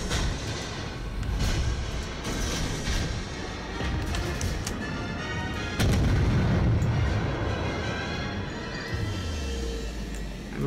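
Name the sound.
naval guns firing in the video game World of Warships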